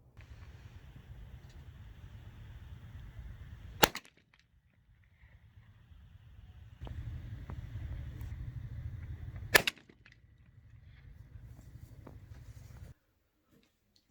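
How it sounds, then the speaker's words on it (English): A shotgun fires twice at a pattern target set 25 yards away, each blast a sharp, loud crack at about 4 and 9.6 seconds over a low engine-like rumble outdoors. "Now what you want to do is shoot multiple targets with the different chokes that you've selected"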